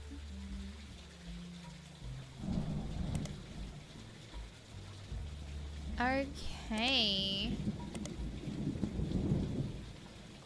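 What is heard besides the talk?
thunderstorm with rain in a detective video game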